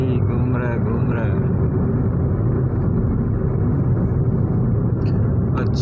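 A car driven on a road in Pakistan, with steady low engine and road rumble running throughout at constant loudness, while people talk over it inside the vehicle.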